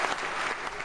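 Brief burst of applause following a pun about a meteor shower, steady dense clapping from a small group lasting under a second.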